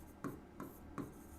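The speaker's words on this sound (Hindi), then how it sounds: "इसमें भी वही बात लिखेंगे" Three short, quiet scratchy strokes of writing on a board during a class 10 maths lesson, evenly spaced and alone.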